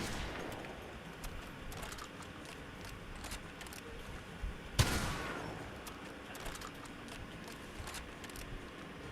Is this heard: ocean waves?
no